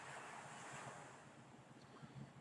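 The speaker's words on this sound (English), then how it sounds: "as we hear the ocean sounds" Ocean waves wash steadily in a soft, distant, breathy roar that rises and falls gently at a faint level.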